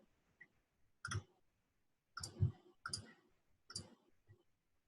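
Four sharp, close computer mouse clicks in an uneven rhythm, each a crisp tick with no talking around them.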